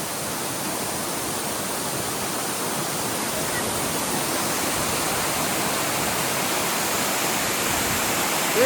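Steady broadband rush of a mountain stream pouring downhill toward the Kali river in the Himalayan foothills, a constant close roar with no breaks.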